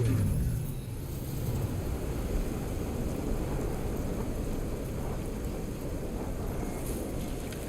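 Steady rain with low thunder rumble during a brewing thunderstorm in the video game No Man's Sky, a heavy rumble fading in the first second before continuous, even rainfall hiss fills the rest.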